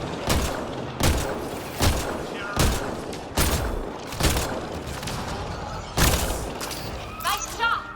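Repeated heavy gunshot blasts from the sci-fi shooter game Mass Effect: Andromeda, about seven loud bursts spaced roughly a second apart, with faint game chatter between them.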